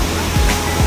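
Water flows down at a hot spring resort, a loud, close, steady rushing like a small waterfall that fills the whole moment.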